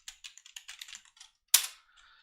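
Bursts of keystrokes on a computer keyboard as an anonymous FTP login name is entered, a quick uneven run of clicks followed by a louder final key strike, close and alone.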